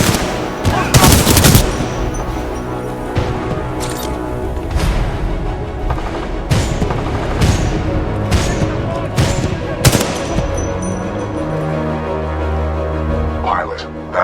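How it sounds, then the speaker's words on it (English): Heavy supporting gunfire from a Titan mech in the Titanfall 2 campaign: dense bursts of automatic fire and booming impacts, loud and close, with a steady rumble of battle noise running throughout. "Commencing supporting fire."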